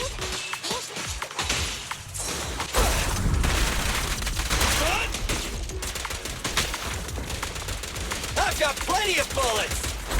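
Rapid bursts of gunfire crackle through a Zenless Zone Zero battle in chapter 3, dense and loud, with sharp repeated cracks layered over game effects and music.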